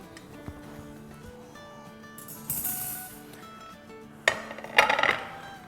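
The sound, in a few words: cake being placed onto a plate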